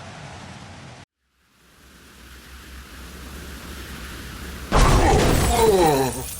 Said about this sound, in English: Venom hit bottom, and the digger crashed to a stop next to him.